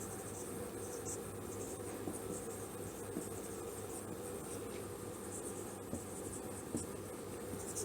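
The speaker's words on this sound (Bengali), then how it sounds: "আমি পলিসিগুলো এক একটা করে এখানে লিখছি।" Faint scratchy strokes of writing on a board during a lecture, a quiet and continuous scraping over a soft background hiss.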